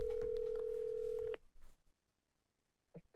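A speakerphone dial tone holds steady for over a second, then cuts off, followed by short murmurs and a faint electronic blip.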